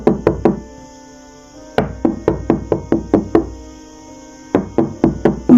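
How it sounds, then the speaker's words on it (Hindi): A sound-effect knock on a wooden door in a cartoon story comes as two rapid bursts of sharp, loud knocks, each about seven or eight quick hollow raps separated by a pause, with no voices. "दरवाजे पर दस्तक होती है।"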